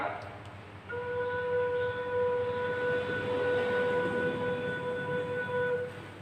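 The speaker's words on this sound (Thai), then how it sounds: "เร เป็นเสียง B นะครับ" A Thai khlui flute in the key of A sounds the note Re (B) as one long, steady, clear tone held for about five seconds, close and alone after a brief pause.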